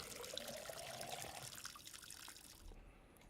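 Water poured onto soil in the video game Schedule 1, a faint steady trickling stream that fades out near the end.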